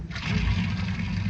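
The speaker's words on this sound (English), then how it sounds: "Now we'll just put the plug back in," Water runs steadily into a bathtub, a dense, constant rushing gush heard up close with no voices, in an old radio comedy bathroom scene.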